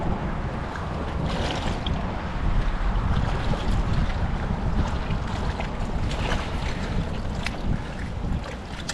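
Strong wind buffets a boat at sea, a loud, continuous roar of gusts and microphone wind noise with the wash of water beneath, steady throughout with no voices.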